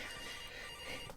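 A telephone rings throughout a cutscene in the horror game Case: Animatronics, a continuous electronic ringing blended into a dense, loud layer of game audio.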